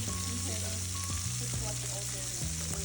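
Beef intestines grill on a tabletop at a Busan restaurant, giving a loud, continuous, crackling sizzle with a faint steady hum underneath and no talk.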